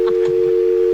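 A steady telephone line tone hums without a break through a 1993 radio talk show as it opens the lines for calls, loud and close, with faint traces of voices behind it.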